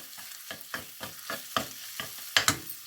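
A spoon stirs potatoes, onions and coriander frying in a pan, with a steady rhythm of close scraping strokes over a soft sizzle.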